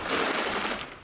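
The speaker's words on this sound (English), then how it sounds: "The Boko Haram videographer records from behind the front line. There is shooting" Gunfire at a Boko Haram front line: a dense, harsh burst of rapid shots filling the whole moment, loud and close with no speech.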